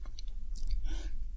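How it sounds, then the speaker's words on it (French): A crunchy snack being chewed close to the mic in a whispered tasting, a short run of soft crunches and mouth sounds without speech. "Vous avez entendu le son très croquant, non?"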